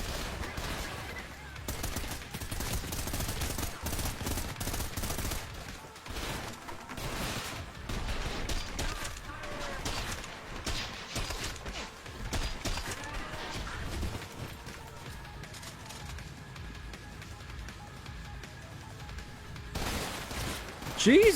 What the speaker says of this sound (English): you just shoot your own guy like that